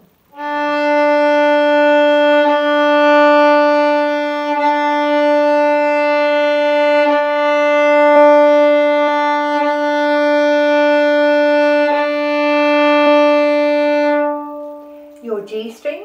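A single bowed violin note on the open D string holds steady and loud for about fourteen seconds, with faint bow changes, then stops.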